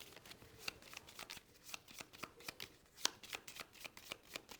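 A deck of cards for the Star Trek: Captains Chair board game is shuffled by hand in quick crisp riffles and flicks, close and moderately loud, with a few sharper snaps along the way.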